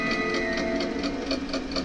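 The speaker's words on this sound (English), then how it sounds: "the creepy sewing machine noises and the psycho-style body reveal make up for that" Rapid, rhythmic mechanical chatter of a sewing machine running steadily in a dark room, a creepy film scene from Child's Play 2, moderately loud and continuous without pause.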